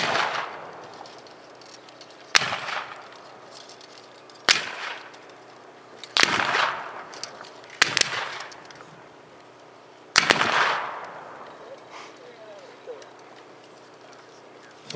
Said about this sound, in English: So the fire sort of cascades from right to left